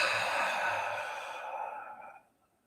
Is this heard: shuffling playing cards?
no